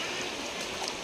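Steady flowing water of the Repakeng river, a stream deep in a Javanese forest, rushing and trickling as a continuous hiss with no pauses, fairly close and alone.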